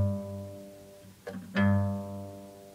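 A guitar sounds a single note on the low E string, fretted at the 3rd fret. The note rings low and sustained, with a pick scrape and re-attack midway, then decays softly up close.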